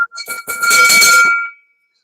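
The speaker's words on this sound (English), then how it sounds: "Chris Hiller, ring the fucking bell, boys." A bell struck and left ringing: a bright metallic clang with a long sustained ring that fades out after about a second and a half, loud and close, with no voices over it.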